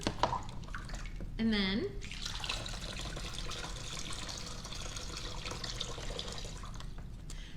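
Water is poured through a funnel into a pool noodle tube, a continuous splashing, gurgling trickle under a person's talk, with a brief whistle-like sweep near the start.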